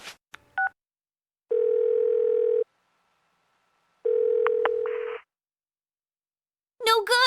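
A phone call in the Persona 4 video game gives two long steady ringback tones separated by a gap, with short interface beeps at the start and a brief voice at the very end.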